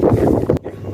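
Strong wind gusting across a foggy mountain pass near the summit of Gunung Slamet, a loud, close roar buffeting the microphone that drops away abruptly partway through.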